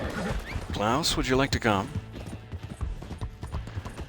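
Arabian horse hooves clip-clopping at a steady trot in Red Dead Online, close and continuous under a man's speech throughout.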